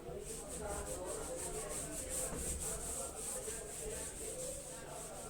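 Steady scrubbing of a duster wiping writing off a classroom board, a continuous close rubbing texture lasting several seconds without pause.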